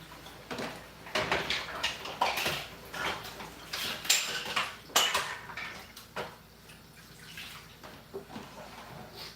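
Dishes, pots and pans are washed by hand, with clattering cutlery, scraping and clinking knocks in an irregular rhythm, close and moderately loud over a faint background of running water and no speech.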